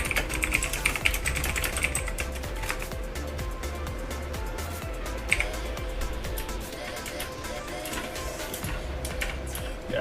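Rapid, steady typing on a mechanical keyboard picked up close by a condenser mic, continuous clicking over a low hum of background game sound.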